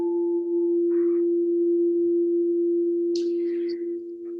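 A steady sustained tone on the musical note F holds throughout, smooth and unwavering, with a few faint brief chirps and clicks over it.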